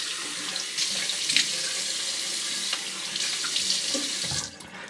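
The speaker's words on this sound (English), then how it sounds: "So let's just go ahead and wet the face." A tap runs steadily into a sink to wet the face before shaving, a close, even wash of water with small splashes, then cutting off near the end; no one speaks.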